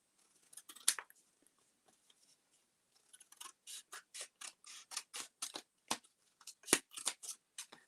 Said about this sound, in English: cut out a little strip